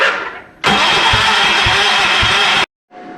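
A Massey Ferguson 1650 tractor engine cranks on its push button starter, a loud steady grinding with rhythmic turnover pulses lasting about two seconds, cutting off abruptly before a short fainter burst.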